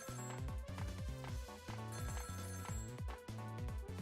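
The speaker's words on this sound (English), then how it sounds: "Oh, it's the assassin guy's phone" A telephone rings in the video game Ghost Trick: a bright, rhythmic electronic ring pattern repeats steadily and loud over a musical backing.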